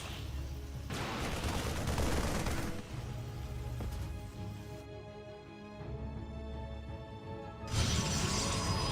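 Rapid energy-weapon shots and crackling impacts from a Stalker firing on a Medevac in StarCraft II, loud bursts with a brief lull midway before another heavy blast of gunfire-like fire.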